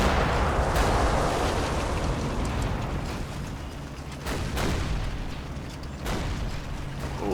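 Gunfire and artillery in the World War II strategy game Combat Mission: Battle for Normandy, a dense continuous barrage of booms and bursts with several sharper blasts standing out.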